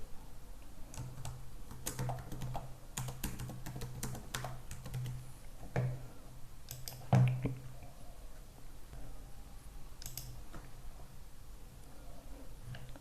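Keys clatter on a computer keyboard as a WordPress username and password are typed, a quiet, close run of irregular clicks with a few louder taps, no voices present.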